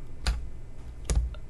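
Two separate, crisp key presses on a computer keyboard, close by, spaced about a second apart, for a brush shortcut in compositing software in a quiet room with no speech.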